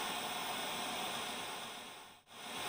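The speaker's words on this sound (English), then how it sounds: "There's heavy static coming from her side." Heavy, steady radio static hisses loudly and continuously in a horror video game set at a mansion, with one brief dropout near the end before the static returns.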